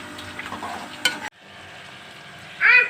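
Grated carrots for gajar halwa fry in ghee, a close, moderate sizzle with stirring scrapes and a sharp clink before a brief cutoff, then a quieter sizzle that swells again at the end.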